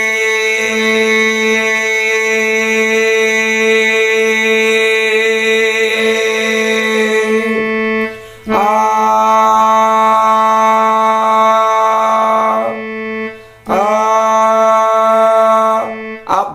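A harmonium sustains an A scale note as a steady reed drone with rich stacked harmonics, breaking off twice and re-sounding, loud and close with no talking.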